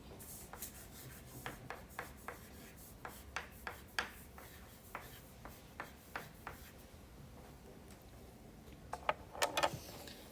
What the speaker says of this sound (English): I'm just writing A plus B goes to 2C and D.